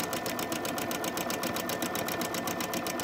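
A sewing machine stitches a baby burp cloth, running at a fast, regular rhythmic chatter of needle strokes, close and steady throughout without pause.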